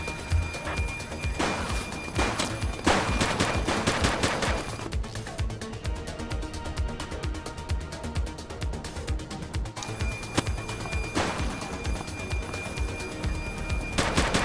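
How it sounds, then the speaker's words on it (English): Gunfire erupts in The Precinct police game, a few bursts of rapid shots near the start and again toward the end, set against a steady noisy background with ambient clatter between volleys. "He's shooting!"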